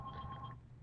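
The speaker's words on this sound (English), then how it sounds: "actually, that's the phone right now" A telephone in a radio show studio gives a short electronic ring tone, a steady two-tone burst lasting about half a second and then stopping, faint and close with a low hum under it.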